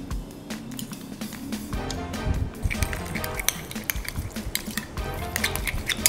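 A spoon stirs garlic and onion aioli with mayonnaise in a bowl, giving continuous scraping and clinking of metal against the dish in an irregular, busy rhythm close up, with no talk.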